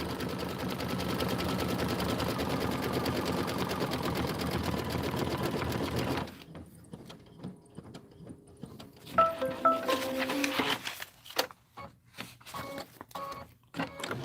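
An embroidery machine stitches out a pumpkin design in burnt orange thread on background fabric, a steady, loud mechanical whir running continuously and then breaking into shorter, uneven bursts of stitching and clicks.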